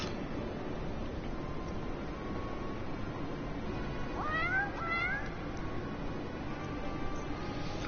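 A cat in the Final Fantasy XIV video game gives two short meows close together against a steady hiss of background noise, without speech.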